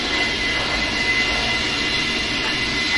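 An aircraft taking off at an air show, a loud, steady engine roar with a high whine, close and continuous, and no talking.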